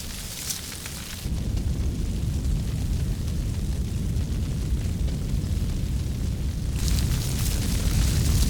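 Old heather burns across a Cairngorm hillside in late March, a loud continuous roaring crackle of a large moorland fire, close and dense, with gusty swells of flame noise.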